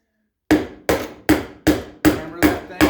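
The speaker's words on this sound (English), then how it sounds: "Hammer that thing home" Seven sharp, evenly spaced hammer blows drive a nail home while tying the springs of an antique chair, loud and close after a moment of silence.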